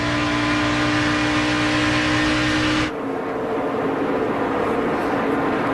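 Stock cars in a 2010 NASCAR Nationwide race at Fontana roar past, a loud, sustained engine drone that abruptly drops to a thinner, more distant rumble midway.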